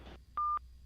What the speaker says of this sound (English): I want to call you now on WhatsApp.